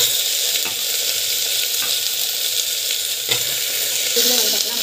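Ingredients including elephant foot yam and rock salt sauté in a hot pan, a steady close sizzle broken by occasional scraping stirs, with no talking.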